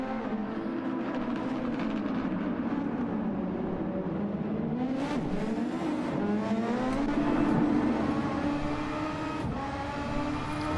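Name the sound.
P1RCs SF23 race car engine during live race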